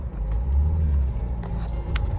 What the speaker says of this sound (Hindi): तो अंदर पार्किंग में गाड़ी खड़ी करते हैं पहले